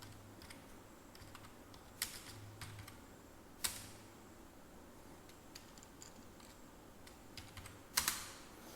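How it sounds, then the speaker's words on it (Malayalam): A computer keyboard is typed on close by while a name is entered, with scattered light key clicks and a few sharper, louder taps in an irregular rhythm over faint background hum. "ആദ്യം എൻ്റെ പേര് നമുക്ക് ടൈപ്പ് ചെയ്ത് നോക്കാം."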